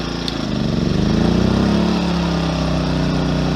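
An Amico AIG2000 2000W inverter generator running on eco throttle under an 800 watt load, its engine droning loud and close, rising slightly as the load comes on, then holding steady.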